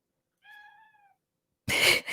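Dot the cat gives a single clear, drawn-out meow, close and alone, followed by a short burst of louder noise.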